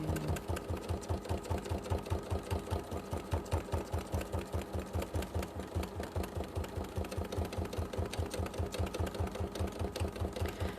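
A sewing machine runs steadily while stitching around fabric edges, a close, continuous rapid mechanical chatter with an even needle rhythm throughout and no talking.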